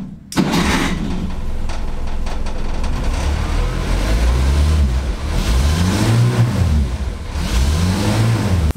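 A Renault 4 engine starts and revs repeatedly, rising and falling in several swelling vroom cycles, loud and close, with no talk.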